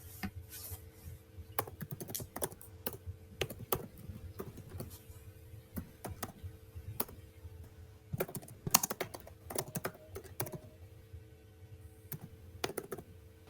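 Rapid, irregular clatter of keys as code is typed on a computer keyboard, close and fairly loud, in bursts with brief pauses and no voices.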